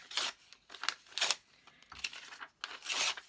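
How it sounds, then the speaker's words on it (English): Old book pages torn by hand in an art studio, four or five quick, close ripping bursts of crisp paper noise separated by short pauses. "I'm going to take this old book pages and just tear them up"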